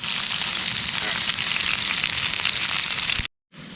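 Salmon frying in oil in a pan at a Yosemite Valley campsite: loud, dense sizzling and crackling that runs steadily, then cuts out briefly before resuming at the same level.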